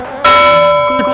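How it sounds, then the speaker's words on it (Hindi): A single bell struck once, ringing out loud and near with a sustained metallic tone that slowly decays over about a second. "घंटा बजा के चली गई"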